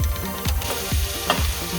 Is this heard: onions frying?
yes